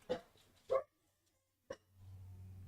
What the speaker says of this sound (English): my dogs be barking for no reason